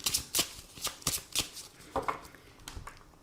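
Lenormand tarot cards being shuffled, a crisp run of riffling bursts and soft slaps repeating at an irregular pace, close and fairly quiet, with no voices.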